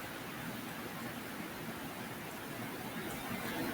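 Steady rain with an even hiss that holds at a constant moderate level throughout, with no voices over it.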